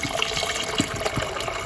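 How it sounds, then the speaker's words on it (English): Hot water poured from a kettle into a pot on the stove to cook ugali, a steady close splashing gush that runs for the whole moment with small bursts of bubbling. "grab your hot water and pour"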